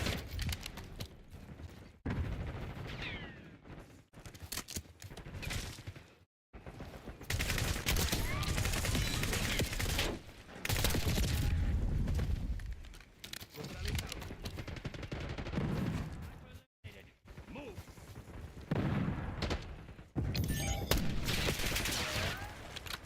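Dense automatic gunfire from the video game Black Ops 6 rattles almost continuously in heavy bursts with brief gaps, loud and close, while a voice talks over it.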